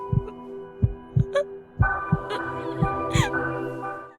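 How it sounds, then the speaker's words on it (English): Heartbeat effect in the Attack on Titan anime, a run of low, thumping beats at a steady, unhurried pace, loud and close, with a sustained tonal hum and sparse higher notes over it. "the sound of the heartbeat plays exactly on the beat of the piano note"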